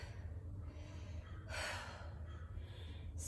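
Heavy panting breaths while resting between sets of a workout, two louder exhales standing out over a steady low hum, close and alone with no talk.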